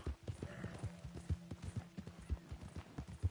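Horse hooves clip-clop at a steady walking rhythm in Red Dead Redemption 2, close and moderately loud, with faint background tones underneath.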